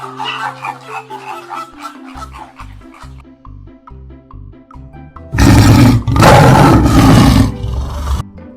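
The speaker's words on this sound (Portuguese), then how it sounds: "Leão." A lion roars in two long, loud, rough bursts at close range, preceded by a short stretch of music.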